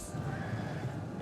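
A horse neighs in the battle game Total War: Rome 2, a short whinny over dense low battle noise with faint hoofbeats, no speech.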